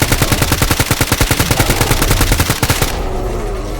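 Rapid automatic gunfire in S.T.A.L.K.E.R. GAMMA aimed at mutants, a sustained burst of evenly spaced loud shots for nearly three seconds, then a sudden stop with a fading tail.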